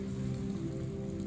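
Steady rain falls and patters on a surface, a constant dense hiss with no pauses.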